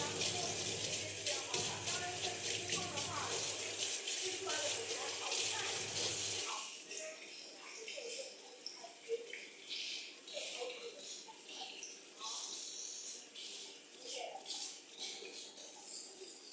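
Tap water runs into a kitchen sink as something is washed up, a steady hiss and splash for several seconds before it cuts off, leaving quieter clatter and faint movement.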